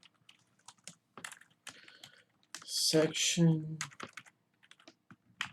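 Code being typed on a computer keyboard, quick light clicks in scattered bursts, close to the microphone, with someone speaking over them midway.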